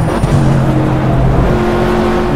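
Race car in the Project Cars racing game braking and dropping to third gear, engine tone stepping through steady harmonic drones, loud and continuous throughout.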